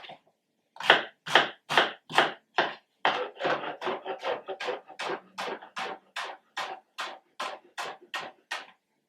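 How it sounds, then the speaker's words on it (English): Food is chopped on a board with a knife, about twenty crisp close strikes in an even rhythm, quicker and lighter toward the end, with no talking. "Now, we're going to chop it."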